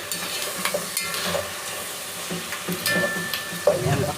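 Arroz caldo being sautéed in a pan, with a steady background sizzle and the intermittent scrape and clatter of stirring from close by. No one talks.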